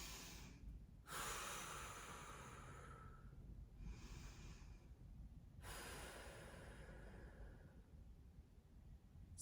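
Slow, easy breathing at a one-to-two inhale-exhale ratio, long airy breaths alternating steadily, close and quiet with no talking.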